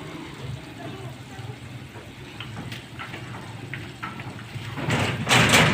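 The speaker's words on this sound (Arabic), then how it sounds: "عمرو ابن عمه هيفتح الباب ده." A door of a house is opened, with a low rattle and scrape that swells into a louder, noisy rush near the end, while people move and talk faintly nearby.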